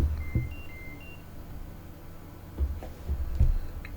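An F/A-18C cockpit warning in the DCS flight simulator sounds a short series of high, thin beeps at the start over a low engine hum, followed by a few soft thumps.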